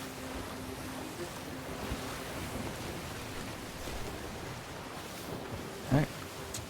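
Ocean waves out at sea in Sea of Thieves, a broad steady wash of surf and wind that holds at a moderate level, with a brief louder splash or knock near the end.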